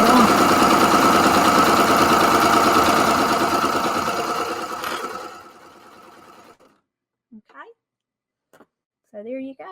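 A Baby Lock Acclaim serger runs at a fast steady whir while stitching 5.5 inch fabric squares, then winds down and stops, leaving near silence broken by a few short voice snippets.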